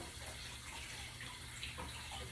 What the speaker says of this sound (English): So let me get my hands cleaned up.